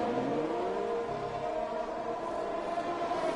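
An F1 car in the video game F1 2021 accelerates away out of the pits at the Japan round, its engine whine climbing steadily in pitch as it pulls away, heard alone at moderate level.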